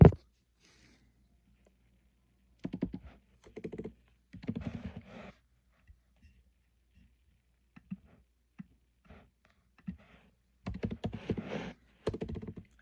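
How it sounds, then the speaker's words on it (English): A passcode goes in on a computer keyboard in several quick bursts of clicking keys with silent gaps between them and a few isolated taps, close and fairly clear. "I will type in a passcode here"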